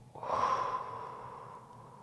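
Slow breathing during a rib-injury recovery stretch: a single audible breath swells in, then trails off into a long, soft exhale, close and clear with no talking.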